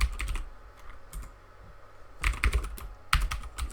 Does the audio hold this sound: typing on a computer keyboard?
yes